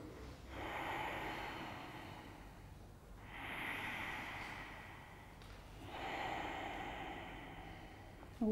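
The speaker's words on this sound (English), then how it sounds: "So we're breathing." Slow, deep breaths during a yoga class, each long exhale rushing out at roughly three-second intervals, close and fairly soft, with no talking over them.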